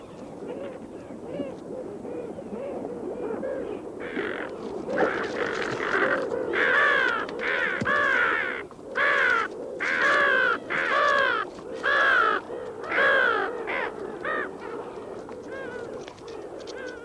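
Wild birds in the mountains, a well-grown chick and its parent, give repeated harsh, rising begging calls in a steady series of loud bursts over a continuous background murmur, close by.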